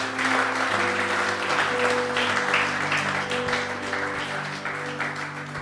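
A church congregation applauding and cheering in worship during a pastor's session, a dense, sustained wash of clapping and voices that fills the room, with steady tones from music or organ sustained underneath.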